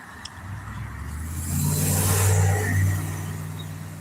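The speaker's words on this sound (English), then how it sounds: "You will see that traffic is pretty heavy." Heavy road traffic passes nearby, a low engine rumble that swells as a vehicle drives by in the middle and then fades, with no talking.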